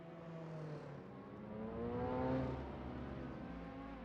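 Race cars in an AI racing video game, a continuous loud engine whine that rises in pitch as cars accelerate and pass, with several overlapping motors.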